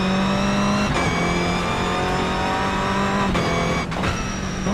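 Race car engine in a racing video game at Long Beach, accelerating out of the pits: a loud, steady high-revving drone with a gear-change dip, continuous and close throughout.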